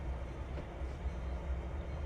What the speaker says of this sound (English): Here's another train waiting to get onto the dock.